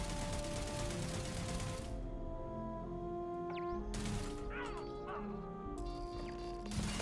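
Turret firing in Starfield, rapid bursts of loud gunfire in several stretches separated by short pauses, over game music and tones.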